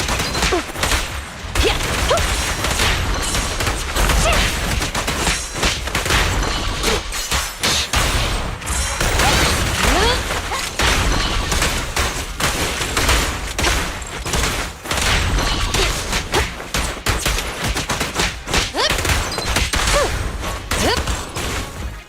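Sustained gunfire in the video game Zenless Zone Zero, a dense, continuous barrage of rapid shots and impacts that runs loud and unbroken throughout.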